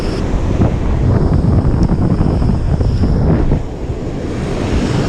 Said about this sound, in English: the wind is a little in my face